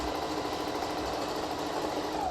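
A sewing machine stitches steadily around the edge of a fabric face mask, a continuous close, even mechanical whir with no pauses and no voices.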